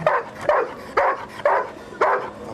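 A dog barks five times in an even rhythm, each bark sharp and fairly close, with short quiet gaps in between.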